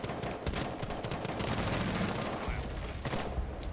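Dense, continuous gunfire from a Rainbow Six Siege match, rapid overlapping shots in sustained bursts, loud and close throughout, with faint voices underneath.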